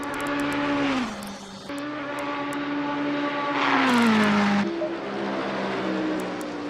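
Race car in a sim racing GT championship at Spa-Francorchamps, engine screaming through upshifts with pitch dropping at each change, loud and close with no talking.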